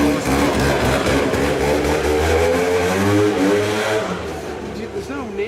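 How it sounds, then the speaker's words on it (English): Scooter ridden loudly past on a street in Gorinchem, its mid-pitched engine buzzing and revving up close before fading slightly at the end, with people talking over it. "There's no need to ride a scooter in that fashion, Barry."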